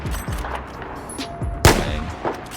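Recon rifle fire in Battlefield 4: one sharp, loud crack cuts through a busy game backdrop of distant gunfire and explosions, with smaller pops and thuds scattered around it and no voices.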